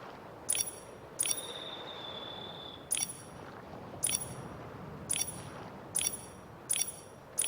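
Star bell being shaken in the video game Infinity Nikki, bright repeated ding-like chimes at a fairly steady pace with a sustained high tone after one strike, heard over constant soft game ambience.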